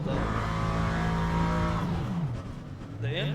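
An LMP3 race car engine in the Le Mans Ultimate racing game drones loudly and steadily, its pitch sliding downward as it decelerates before revving back up near the end.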